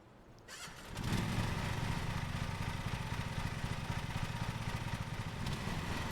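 A ride-on lawn mower engine in Lawn Mowing Simulator cranks and catches after a short start, then settles into a steady, loud, buzzing mid-pitched run that holds without pause.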